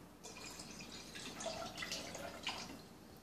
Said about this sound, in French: Ok, pour commencer, il va falloir mettre de l'eau dans le pot.